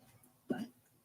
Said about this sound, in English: I got a hiccup.